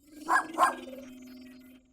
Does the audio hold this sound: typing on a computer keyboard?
no